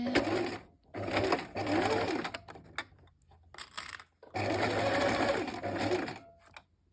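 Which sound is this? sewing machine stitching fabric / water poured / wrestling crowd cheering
sewing machine stitching fabric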